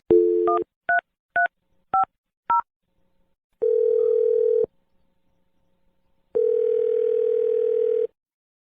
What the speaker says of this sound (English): I'm dialing the number now.